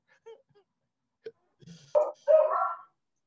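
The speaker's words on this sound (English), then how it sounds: "I apologize in advance for the dogs barking in the background." Dogs bark in the background during a school board meeting, a few short sharp barks and yips that sound a little distant and come in a brief burst near the end, after a quiet stretch.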